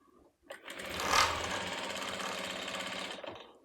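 A sewing machine runs steadily for several seconds, stitching lace onto a box-pleated baby frock, its needle giving a rapid, even mechanical chatter that is close and fairly quiet, with no voices.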